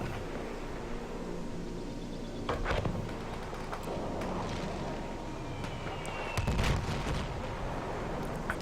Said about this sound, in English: Ender comes in with the bomb run